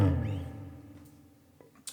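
Blues guitar lick in G minor pentatonic, pattern 2, with a full-step bend on the 8th fret of the high E string: a single bent note rings out close and loud, slowly fading, with a faint pick touch near the end.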